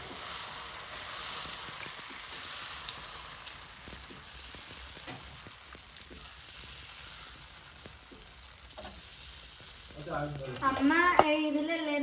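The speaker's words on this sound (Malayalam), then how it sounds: "അമ്മ ഇവിടെ ഉഴുന്ന് ദോശയാണ് ഉണ്ടാക്കിയിട്ടുള്ളത്" Urad dal dosa batter frying in a pan at home, with a steady soft sizzle throughout and a burst of louder stirring and clatter near the end, with brief voices in the background.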